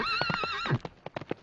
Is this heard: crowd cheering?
no